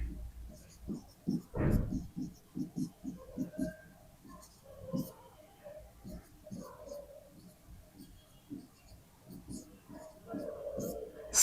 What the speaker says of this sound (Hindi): नाम लिख देता हूं मैं यहां पे